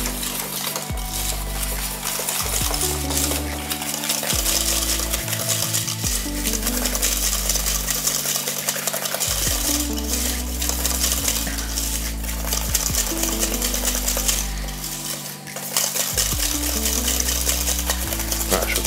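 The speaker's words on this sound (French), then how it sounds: "je vais donc blanchir mon sucre avec mon beurre pommade" Softened butter being creamed with sugar, vanilla powder and salt in a bowl for a coconut sweet pastry dough, with steady scraping and clinking stirring sounds under a loud, continuous music track.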